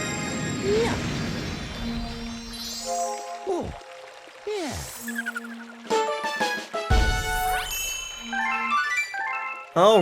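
The Super Mario Galaxy power star collect jingle, a bright chiming fanfare with sweeping glissandos and twinkling notes that plays loud and up close, layered over game sounds, with no talking.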